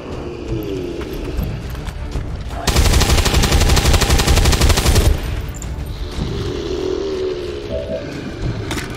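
Sustained automatic gunfire from the turn-based strategy video game XCOM 2: War of the Chosen, a loud, rapid burst lasting a couple of seconds, set between quieter ambient game sounds.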